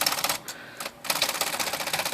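Smith Corona electric portable typewriter running its power space mechanism, a rapid, loud mechanical chatter of repeated clacks that pauses briefly twice before resuming in a steady rattling burst.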